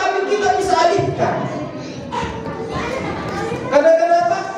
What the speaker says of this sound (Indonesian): Suaranya anak-anak terdengar,